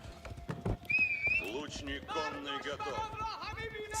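Horse archers' horses in the Age of Empires video game: hooves clip-clop and a horse whinnies, with game commentary spoken over them.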